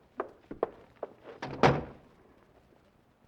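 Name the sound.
door being closed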